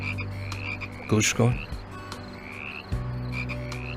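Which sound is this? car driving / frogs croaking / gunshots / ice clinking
frogs croaking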